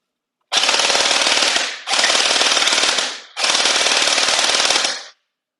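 An Anstoy M4A1 airsoft rifle with a Strikeface conversion kit fires three long full-auto bursts, each a loud, rapid mechanical rattle lasting over a second, with short pauses between.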